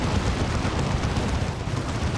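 A deep, rumbling blast fills the moment a unit dies in the video game Warhammer 40,000: Dawn of War 2, a dense, loud burst of low noise that persists throughout with no talk over it.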